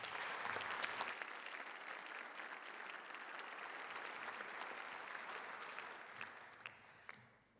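Steady, dense applause from an audience at a college awards day ceremony, filling the hall for several seconds before tapering off, with a few stray claps at the end.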